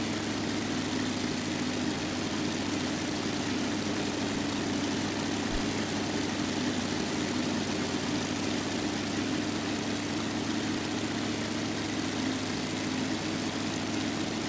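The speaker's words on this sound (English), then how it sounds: "Just listen to the sound as the aircraft dives." Propeller engine of an F4U-1A Corsair in a high-speed dive in FSX, a constant loud roar with a steady low drone and broad rushing noise, unchanging for about fifteen seconds.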